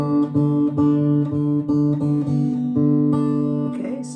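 Low D notes plucked repeatedly on the fourth string of a Martin SC-13 acoustic guitar, a little flat, each note ringing and decaying before the next pluck in a steady, fairly loud sequence with rich overtones and no talking.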